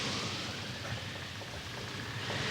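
Steady storm rain, a dense broadband hiss with low rumbling that suggests thunder, continuous and fairly loud throughout with no voices.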